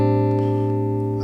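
Guitar chord fretted with the index finger on the B string at the third fret, ringing out sustained and steady for just over a second with no talking.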